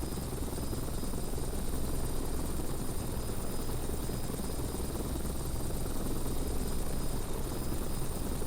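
A helicopter slowly descends in a flight simulator video game, sending out a continuous, loud rotor and engine drone with a faint high whine, unchanging throughout.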